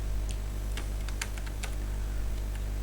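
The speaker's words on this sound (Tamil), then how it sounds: "இந்த இடத்துல டைப் பண்ண போகிறேன்" Keys clack on a computer keyboard while data goes into an Excel spreadsheet: sparse, irregular light clicks, fairly quiet, over a steady low background hum.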